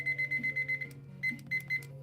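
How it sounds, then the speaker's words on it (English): A timer alarm beeping in quick, evenly spaced high-pitched pulses, a run of about seven beeps, a short pause, then a few more, fairly quiet and alone. "I'm going to set a timer."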